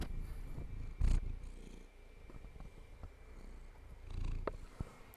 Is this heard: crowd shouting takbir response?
no